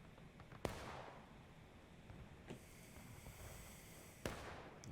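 Sharp gunshots ring out in a Civil War video game match, three distinct cracks spaced a couple of seconds apart, faint and distant against a steady ambient hiss.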